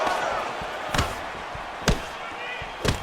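Blocked knee strike landing in the EA Sports UFC 4 fighting game, three sharp, loud thuds spaced about a second apart over a steady crowd-like background roar.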